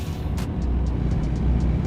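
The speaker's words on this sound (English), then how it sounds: "Using the engine brake here." Steady low rumbling drone of a truck engine brake in American Truck Simulator, continuous and fairly loud with faint ticking clicks on top, no talk.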